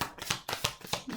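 Tarot cards being shuffled by hand, a quick run of about five crisp riffling bursts close up in a quiet room.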